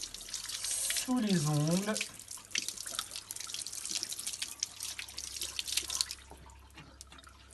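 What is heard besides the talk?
water running from tap while washing hands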